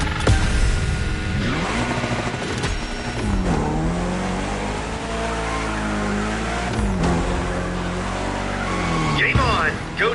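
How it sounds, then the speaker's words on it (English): A Lancer Evo X in The Crew revs hard with rising and falling engine pitch while drifting, tires squealing through the slides, with a voice talking over the loud, continuous engine. "Can you get all steezy with your slide? And how long can you maintain your drift?"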